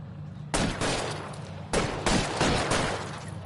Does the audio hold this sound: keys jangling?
no